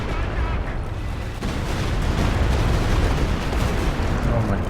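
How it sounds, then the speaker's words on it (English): An artillery barrage in the strategy game Company of Heroes 2: a continuous, loud rumbling roar of overlapping distant blasts with no clear breaks. "Artillery cover still coming down."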